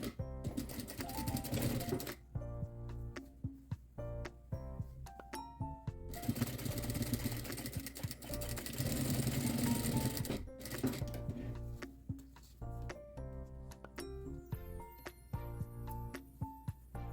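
Sewing machine stitching 1 mm from the edge of a fabric scrap, sewing elastic for a scrunchie; bursts of fast, steady needle rattle start and stop several times, running loud and close with short pauses between.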